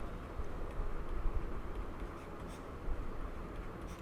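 Marker or chalk scratching names onto a board, a run of short dry strokes and taps close by, with a louder stroke near the middle and another near the end.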